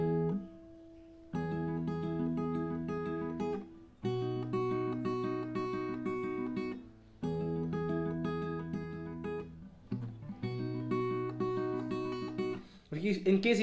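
Guitar sounds a B note, pairing the open E string with the 7th fret on the E string, repeated in steady clear strokes with short pauses between, played alone in a song tutorial.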